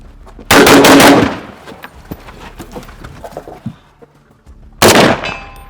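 Springfield M1A Scout rifle fire during a speed drill, loud close bursts of rapid shots with ringing decay, then a quieter stretch of shuffling and handling before another burst.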